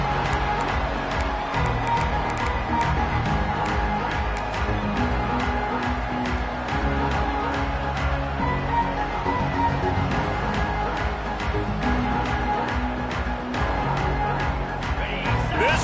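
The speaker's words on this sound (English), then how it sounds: "This crowd trying to show them what it's going to be like all day in this house." A dense, steady roar from a college football stadium crowd during a BCS game, broadband and continuous throughout, loud and sustained with no single voice standing out.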